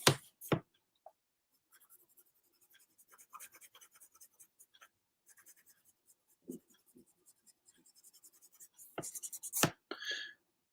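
Colored pencil scratching across smooth-surface paper in short, quiet strokes and taps, very close and soft, with a few louder handling knocks scattered between the strokes.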